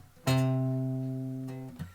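Single guitar note C plucked on the low E string, ringing cleanly and close for over a second before being damped, with a faint second pluck at the end.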